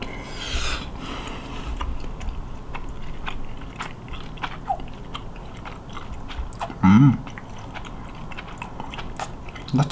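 Close, crunchy chewing and biting of hot, spicy ramen, with repeated wet mouth sounds and a few sharper bites, no talking.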